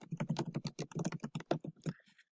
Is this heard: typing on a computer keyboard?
yes